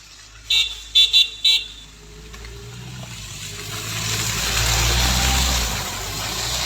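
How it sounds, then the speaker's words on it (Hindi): Cars climb a slippery, snow-covered road: a few short horn toots come first, then an engine rises and swells as a vehicle labours uphill, with no talking. "कुछ गाड़ियाँ हैं, जहाँ देखिए स्लिपरी रोड है थोड़ा, हाँ, लेकिन चढ़ गई गाड़ी"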